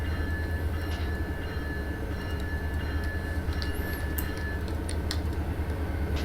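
A simulated train in a rail yard rolls past in a steady, heavy rumble with a low engine drone, faint rhythmic wheel clatter and occasional high metallic squeals.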